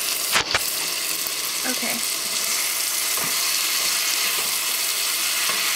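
Ground beef and onion fry in hot fat in a pan, giving a steady, close hiss of sizzling with a few clinks of stirring, and a brief word spoken early on.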